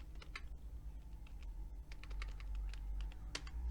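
Fingers type a name on a computer keyboard while working in an Excel spreadsheet, a quick uneven run of close, crisp key clicks with a low hum underneath and no talking.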